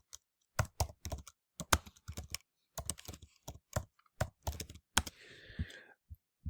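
Bursts of typing on a computer keyboard, close and crisp, with irregular clusters of key clicks separated by short pauses, ending in a softer rustle; no speech.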